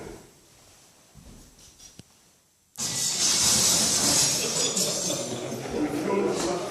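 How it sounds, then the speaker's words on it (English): A rock thrown through a glass storefront display window in Madison Square: after a quiet stretch, a sudden loud burst of shattering and splintering glass that sustains as a bright, crackling wash of falling shards. "it caused the glass to shatter and splinter into a million pieces"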